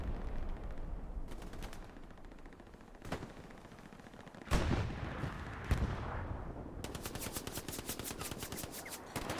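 Gunfire from the World War II shooter Hell Let Loose at Utah Beach: rapid machine-gun bursts, heavy booming impacts and explosions, loud and close in repeated rattling volleys.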